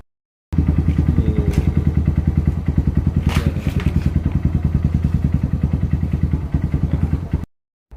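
A modified Honda Verza motorcycle engine runs close and loud with a fast, steady thumping pulse that lasts several seconds and then cuts off abruptly.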